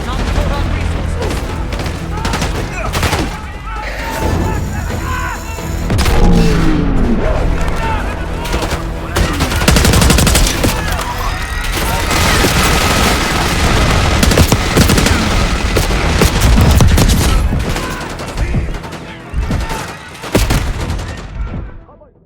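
Minigun fire rattles in Call of Duty Black Ops 6, with long, dense bursts of rapid gunshots and booms that run loud and continuous through a chaotic battle mix.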